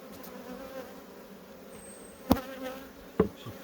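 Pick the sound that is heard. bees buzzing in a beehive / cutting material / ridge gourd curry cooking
bees buzzing in a beehive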